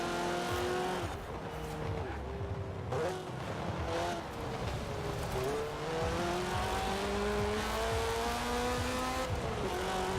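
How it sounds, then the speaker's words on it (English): Video game rally car spinning its tires at the start, a steady loud engine roar with rising revs and a sustained tire squeal running through the whole stretch, close and continuous. "Tires are burning out on the start."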